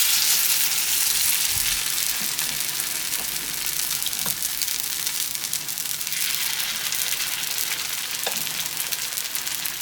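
Gunta ponganalu batter sizzles steadily in a hot pan, a dense, continuous frying hiss with faint scattered pops and clinks, close and unbroken throughout.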